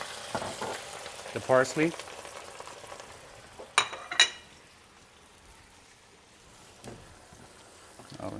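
Razor clams with white wine sizzle and hiss steadily in a hot pan, with sharp clatters and scraping as they are stirred. A voice briefly speaks over the frying.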